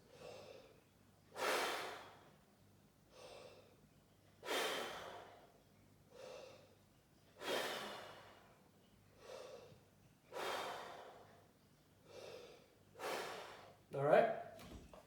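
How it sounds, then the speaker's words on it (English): Deep, slow breaths taken in a tuba warm-up, about eight of them at a steady rhythm, each a long airy rush of inhale and exhale, close and fairly quiet with no talk. "3 to 5 big tuba breaths"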